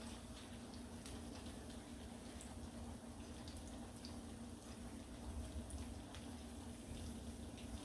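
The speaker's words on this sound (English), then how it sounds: "So now I'm gonna add the sauce" Liquid sauce streams steadily into a pot of spicy ramen noodle soup with Spam, a continuous close wash of pouring and bubbling with no break.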